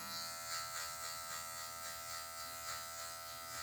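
A hair clipper buzzes steadily and close by, trimming a short zero-high mid fade at a barbershop, its tip taking off excess hair with a constant electric whine.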